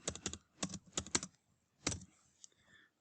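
Typing on a computer keyboard, entering a file name: quick bursts of clicking keystrokes in short clusters, a pause, then a final few taps, close and fairly quiet, no talking.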